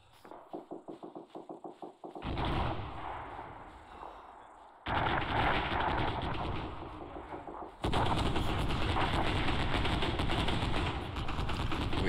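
Gunfire in the video game Arma 3: rapid, evenly spaced shots open the sequence, then dense, sustained bursts of loud shooting roll on in long overlapping waves with distant booms.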